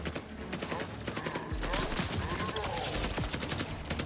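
Frantic video-game gunfire from many turrets: dense, continuous crackling bursts and mechanical clatter, loud and chaotic throughout, with a rush of louder noise midway and a faint voice in the mix.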